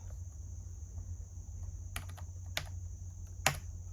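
Key taps on the chiclet keyboard of a Lenovo ThinkPad X130e laptop, a few sparse, sharp clicks over steady low hum, with one louder press near the end.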